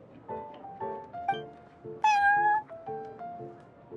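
Prince, a cat in the video game Genshin Impact, meowing repeatedly in short, close calls, with one longer, louder, high-pitched meow in the middle and soft background chatter throughout.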